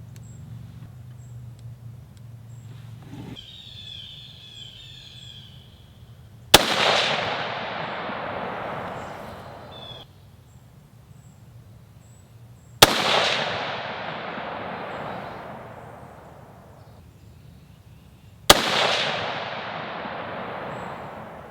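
Three loud rifle shots from a Diamondback DB10 AR-10 chambered in 6.5 Creedmoor, each a sharp crack with a long decaying echo, spaced about six seconds apart at an outdoor range with no talking.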